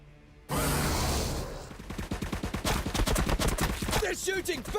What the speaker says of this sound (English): They're shooting back!